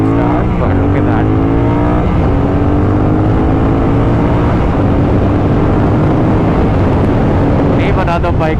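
A Kawasaki Ninja 1000 twin motorcycle accelerates hard on a highway, its engine roaring loudly and climbing in pitch through the gears, heavily buffeted by wind noise throughout.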